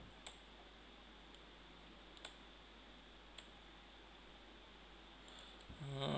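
Sparse keyboard key clicks, three or four isolated taps spaced about a second apart in a quiet room during a Java programming class, followed by a slightly louder rustle at the end.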